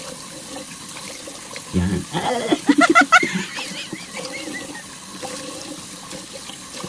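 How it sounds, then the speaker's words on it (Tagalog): Running water splashes as a face is rinsed clean of soap, with a burst of splashing and dripping in the middle over steady flowing water, and a voice briefly speaking. "banlawan na natin"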